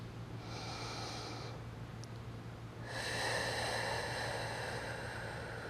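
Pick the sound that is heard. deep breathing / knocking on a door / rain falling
deep breathing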